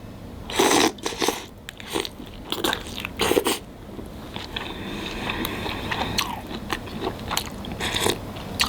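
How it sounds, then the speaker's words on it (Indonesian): Crisp bites and crunchy chewing into a bakso meatball served in broth, repeated close-up mouth sounds with no talking. "Habis gigit gurihnya bakso"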